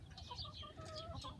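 An Easter Egger hen in a backyard flock gives soft, quiet clucks and murmuring coos, close by and fairly faint, with no talking over it.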